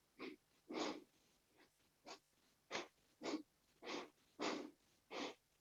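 Slow, steady breaths out during a seated yoga exercise for seniors: nine soft, breathy exhalations of varying length, evenly spaced, close and alone with no talk.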